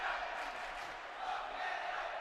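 A dedicated section of fans at a South American Women's Championship basketball game between Paraguay and Colombia cheers for a 6'6" Colombian player, a steady roar of crowd noise at a distance that swells slightly without a break.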